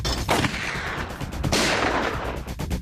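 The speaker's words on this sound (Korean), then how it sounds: "지난 1997년 2월 경기도 분당의 한 아파트 복도에서 두 번의 총성이 울렸습니다" Loud gunfire cracks in an apartment corridor in Bundang, Gyeonggi Province, with one sharp report near the start and another about a second later, each echoing and rumbling densely through the space.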